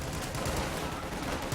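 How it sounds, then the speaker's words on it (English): Rapid, continuous machine gun fire from .30-cal 1919 guns in the Company of Heroes 2 strategy game, a dense loud rattle with battle noise filling the short burst. "Infantry support gun fires on those rear echelons with the 1919s"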